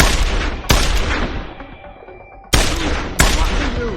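Gunfire in the video game Deus Ex: Human Revolution, with four heavy, close shots, each a sharp blast trailing into a long ringing decay, the last two coming in quicker succession.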